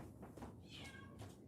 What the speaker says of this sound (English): My cat is meowing.